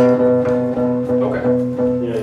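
A muffled guitar note from a finger fretting outside the fret, dull and damped, ringing steadily with a low sustained tone across the moment, alone without talk.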